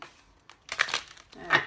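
A tarot card deck is shuffled in a few short, uneven bursts of papery riffling and crinkling, close and moderately loud.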